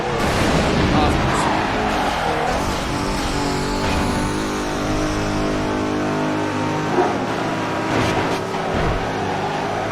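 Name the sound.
car driving past in video game Midnight Club 3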